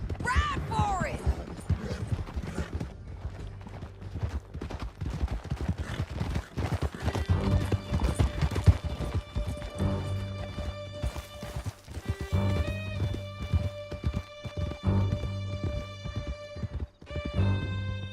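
Horses gallop across a canyon in Red Dead Redemption 2, rapid rhythmic hoofbeats with a whinny near the start, under a continuous music score and occasional shouted voices.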